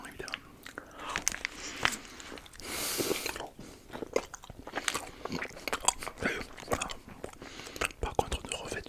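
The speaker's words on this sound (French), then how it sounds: "imagine croquer à pleine bouchée là-dedans" Crunchy bites and wet chewing mouth sounds in an ASMR setting, a close, intimate series of crisp crunches and smacks with quiet whispering.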